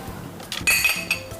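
Glasses of rose hip puree juice clink together in a toast between two women, a few bright ringing chinks close up, the loudest strike sustaining a shimmering ring, with no talking over them.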